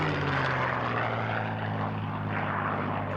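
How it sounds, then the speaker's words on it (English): A P-51 Mustang fighter's piston engine drones loudly at an airshow, a steady propeller roar holding close and constant throughout with no voices. "The Mustang was originally developed to meet the requirement of an advanced fighter for the RAF."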